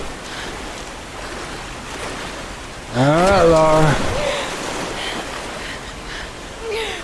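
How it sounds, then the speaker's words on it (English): Rushing river rapids in the Tomb Raider video game roar steadily throughout as a broad wash of moving water, with a voice briefly talking over it. "we gotta cross the moving water"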